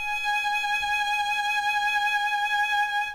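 A violin plays a G sharp on its first string as one long, steady bowed note, clear and close, sustained evenly throughout.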